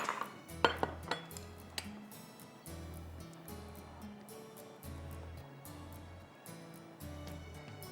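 Cooked shrimp in sriracha sauce, finished with green onion leaves, being served from a pot onto a serving dish: a few sharp metal-on-dish clinks and scrapes at the start, then quieter handling over a steady low hum.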